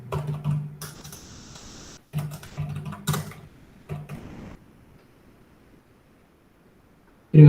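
Python code being typed on a computer keyboard, quick clusters of key clicks in bursts over roughly the first four and a half seconds, then near silence before a sudden loud noise at the very end.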